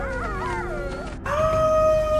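A wolf pack in the Canadian wilderness howls in long, overlapping wavering calls that rise and fall, then settle into steadier sustained tones, loud and close with no voices.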